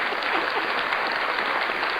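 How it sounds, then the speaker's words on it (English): A canned applause effect plays on a podcast, a dense, even burst of clapping crowd noise that holds steady for a couple of seconds with no talking over it. "Let's give her a round of applause."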